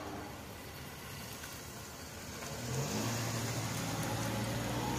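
A car approaches on a road outdoors, a steady engine and tire rumble swelling louder midway and holding close by, with no talking over it.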